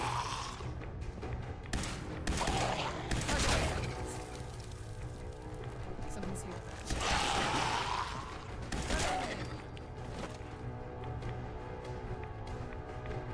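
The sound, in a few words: laser rifle gunfire in a video game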